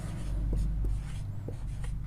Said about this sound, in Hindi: तो लिखेंगे